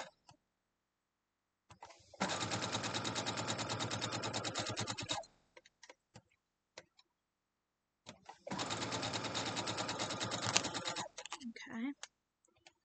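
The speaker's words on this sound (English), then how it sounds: "I'm just going to run a stitch down this one" A home sewing machine stitches a quilt block seam for a February quilt-along. It runs in two steady bursts of rapid, close mechanical stitching, each about three seconds long, with small handling clicks and rustles between and after them.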